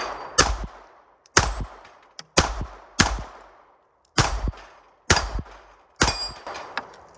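Seven sharp gunshots from an S&W Equalizer pistol fired at a steel plate rack, spaced irregularly over several seconds, each loud crack followed by a ringing decay of struck steel, no talking.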